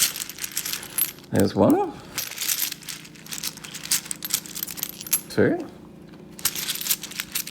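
Coins are pulled out of a pile and dropped in two metallic jangling bursts, the first longer and the second shorter, close and clear. A person talks and counts over a faint background hum.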